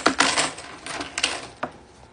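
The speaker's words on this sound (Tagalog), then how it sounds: "Ay, iwan ko pala yung mga barya ko kasi mabigat." Coins are handled and set aside while a bag is emptied, making a dense metallic jingle and rattle at the start, then a few scattered clicks that fade, close and clear, with no voices.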